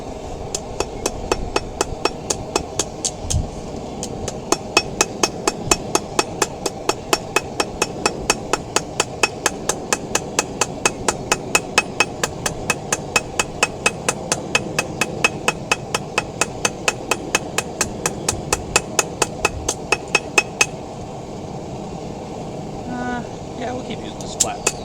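Backyard blacksmith's hammer forging a metal leaf, a long steady run of sharp ringing blows about twice a second, with a few quicker taps at the end, under low background rumble and occasional voice.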